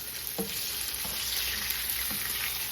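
Hearty pork chops frying in a pan, a steady close sizzle and crackle with a few soft knocks of the food being moved, no talking.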